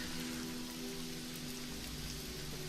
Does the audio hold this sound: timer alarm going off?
no